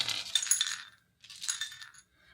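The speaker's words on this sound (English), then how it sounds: "I want to pull out some homemade divination dice" Homemade divination dice rattle and clink as they are pulled out and handled, two bright clattering bursts separated by a short pause, close to the listener, with no talking.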